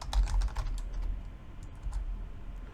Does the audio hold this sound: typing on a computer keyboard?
yes